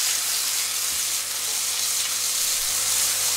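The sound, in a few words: food sautéing in a pan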